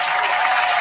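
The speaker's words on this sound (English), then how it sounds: "Let me clap for your brother though" Hands clap in steady applause for a brother, a dense rapid patter of claps held at even loudness throughout, with no voices over it.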